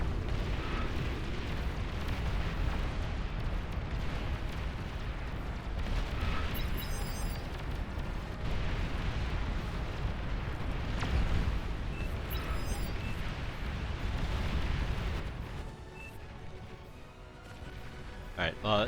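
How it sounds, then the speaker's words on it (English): A Juggernaut unit explodes on a group of Thors in the Beyond All Reason strategy game amid a long, dense roar of booming blasts and rumbling battle noise, with sharper bursts scattered throughout. "Juggernaut decides to stop and just explode on the Thors."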